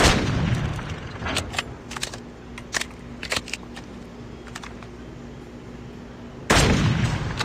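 SPR 208 marksman rifle shots in a video game: a loud opening blast, then sparse single cracks with a steady low hum beneath, and another heavy boom near the end.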